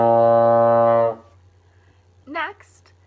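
A baritone horn plays the first note of a B-flat scale with all valves open: one loud, steady, sustained brass tone lasting about a second, then it stops. A brief spoken word follows over a low hum.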